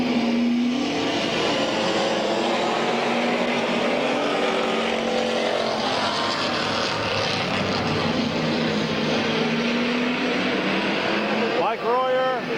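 Race cars roar around Midvale Speedway in a heat race for Detroit-class cars, a dense continuous wash of engine noise with shifting pitch as cars pass, and a public-address announcer talks over it throughout.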